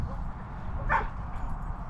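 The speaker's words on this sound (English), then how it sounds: "my dog is a Labradoodle. He's an Australian Labradoodle" An Australian Labradoodle, a third-generation dog just over three years old, gives a single short bark near the middle, close and fairly clear over a steady low background rumble.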